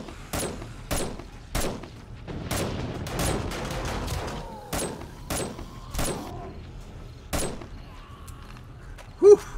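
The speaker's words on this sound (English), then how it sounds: "Came just in time to see me shooting a bunch of zombie jerks in the face" Video game gunfire aimed at zombies: a series of sharp, loud single shots spaced about a second apart, with irregular gaps and a few closer pairs, over a low background of game ambience.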